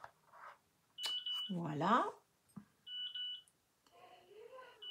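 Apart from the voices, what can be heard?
beeps of a video call placed from a camera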